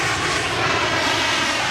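An aircraft landing at Mumbai airport gives a steady, loud, broadband jet roar that holds evenly for the whole moment, with no break and no other sound standing out.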